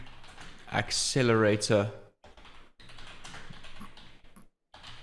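A spoken word opens before a stretch of quiet computer keyboard typing, light steady keystrokes pattering along with brief gaps as a title is entered.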